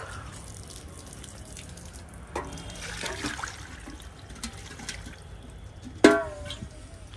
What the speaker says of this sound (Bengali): খাওয়ার দেওয়ার আগে একটু জল ফেলেই দিই।